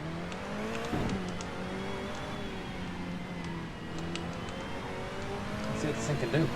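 Race car engine pulling hard under acceleration in a driving game, a steady rising drone with harmonic bands and faint tire noise, continuous and fairly loud throughout.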